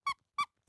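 Two short, bright squeaks about a third of a second apart from the squeaky clown shoes on a 1985 Coleco Cabbage Patch circus-line clown doll, sharp and close with silence between.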